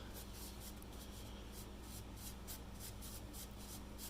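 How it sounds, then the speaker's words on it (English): A blade slices through tarp material for a homemade stealth tarp, a steady close scratching with faint rhythmic strokes over a constant low hum. "I'm just going to start cutting and being very careful, mind you, cutting at an angle like this"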